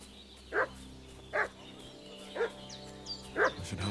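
A dog in the medieval game Kingdom Come: Deliverance II barks four times in evenly spaced single woofs at moderate distance, over a steady low ambient hum.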